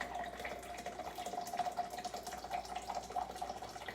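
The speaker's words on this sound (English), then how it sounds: "just going to tilt this in my cup. Pour out however much I want." Hot tea pours from a tilted French press into a cup, a steady close trickle of liquid running alone for several seconds with a faint ringing tone.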